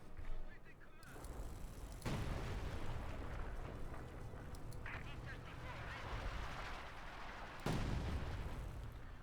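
Gunfire and explosions from the Company of Heroes 2 battle rumble continuously, with sharp bursts breaking through at moments, while a commentator's voice talks over the din.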